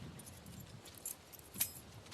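A set of keys jangles faintly in a quiet room, a few soft metallic clinks in brief bursts at close range.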